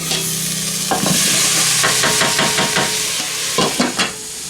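Cauliflower florets fry in a pan with onions and garlic, giving a steady sizzle broken by several scraping stirs and clatters of a utensil, close and fairly loud.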